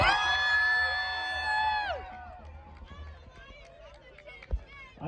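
A school crowd of children lets out a loud, sustained cheer for the principal, with high shrill screams that break off after about two seconds into scattered whoops and chatter.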